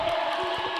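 A roller derby crowd cheers during a World Cup match between the Czech Republic and Japan, a brief, steady roar of many voices in a large arena.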